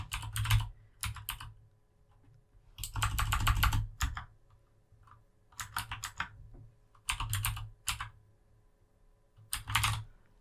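Several quick flurries of keystrokes on a computer keyboard as a new folder name is typed, each burst close and crisp and separated by short pauses, with no voices.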